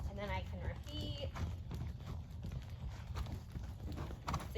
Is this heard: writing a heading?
no